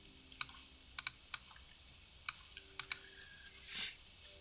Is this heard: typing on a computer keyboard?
yes